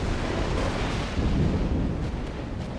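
Heavy naval gun salvos from a warship in World of Warships, a dense continuous rumble of booming blasts and explosions filling the scene, loud and close with no voices.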